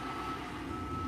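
A truck's reversing beeper sounds as a steady tonal whine over continuous broadband engine and outdoor rumble at the SpaceX Starbase tank farm in Boca Chica, Texas, heard from a distance with no talk.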